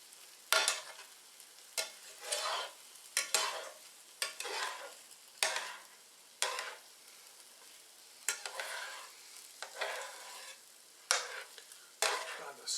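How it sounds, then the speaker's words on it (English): A spatula scrapes and folds crab salad into a sizzling egg omelet in a frying pan, in repeated short swishing strokes over a low frying hiss, close and fairly quiet. "I'm going to switch away from the whisk to the spatula. And I'm just going to fold this crab salad in."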